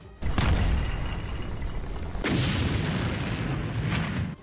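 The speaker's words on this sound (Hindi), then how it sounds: "वीडियो में आसमान में बरसते बम एक एक करके कुर्द लड़ाकों के ठिकानों पर गिरते दिखे, जिसके बाद धमाका हुआ" Bombs explode at Kurdish fighters' positions in northern Syria during a Turkish military operation, two heavy blasts that roar and rumble on, one after another, loud and broad with no voices.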